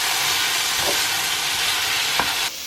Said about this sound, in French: je vais faire cuire uniquement les poivrons et les oignons